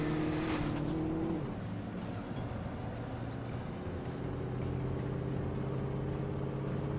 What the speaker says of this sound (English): Oh no, that's a car.